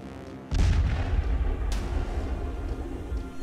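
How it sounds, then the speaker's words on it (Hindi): A sudden heavy boom erupts, followed by a sustained low rumble and a second sharp burst, like a nearby blast, from suicide bomb explosions in Peshawar, Pakistan, in an attack targeting police headquarters. "पाकिस्तान में आत्मघाती हमलावर धमाके कर रहे हैं।"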